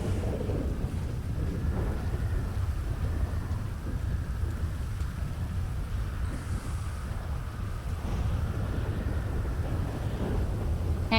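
Thunderstorm in the video game NewDay RP: steady heavy rain hisses on surfaces while low rumbling thunder rolls underneath, continuous and fairly loud throughout with no voices.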